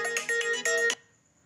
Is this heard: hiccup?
no